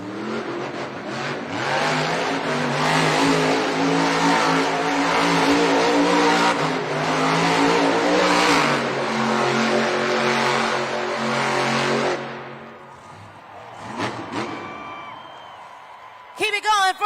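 The Grave Digger monster truck roars through donuts in a Denver arena, its engine revving loud and continuous for about twelve seconds before cutting off, with an announcer talking over it and crowd noise afterward.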